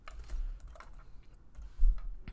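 Quick, light keystrokes on a computer keyboard spelling out a short word, a handful of close, soft clicks in an irregular burst.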